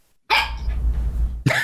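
A dog gives two sharp, loud barks close up, the first followed by a short drawn-out tail, with a second bark cutting in after a brief silence.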